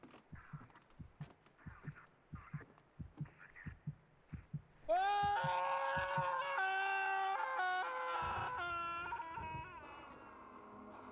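A long, loud, sustained scream rings out in the horror game Silent Hill: Downpour, bursting in after a steady pulsing rhythm of thumps and holding for several seconds before easing.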